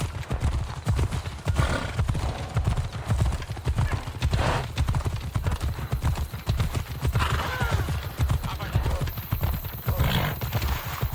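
Horse hooves galloping in the video game Assassin's Creed Odyssey, a loud, continuous rapid drumming of thuds close by, with occasional snorts and a whinny over the rhythm.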